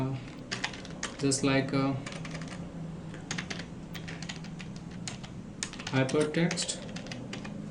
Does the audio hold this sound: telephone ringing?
no